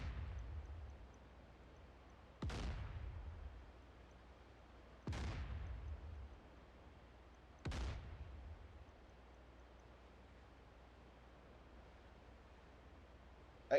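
The main gun of the cruiser Peter the Great fires in DCS World at a Barents Sea battle. Three heavy, booming shots come at even spacing about two and a half seconds apart, and each one decays into a low rumble against quiet background.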